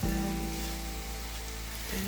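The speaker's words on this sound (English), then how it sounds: "Then add the mushrooms and sauté for 5 minutes until lightly brown." Mushrooms sautéing in a pan give off a steady, even sizzle, close and moderately loud, over a low electrical hum that continues the whole time.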